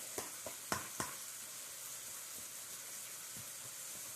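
Fried rice sizzles in a hot pan as it is stirred, a soft continuous frying hiss with a few light scraping taps of the utensil early on, fairly quiet and close.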